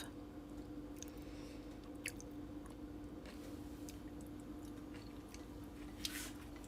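Soft, wet chewing of a shriveled perilla leaf that had been frozen for six months, quiet and close with small irregular crunchy clicks over a faint steady hum.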